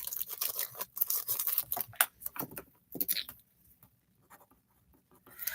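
Pen scratching across paper in quick bursts of strokes, close and crisp, then tapering into a few sparse light marks before resuming briefly at the end.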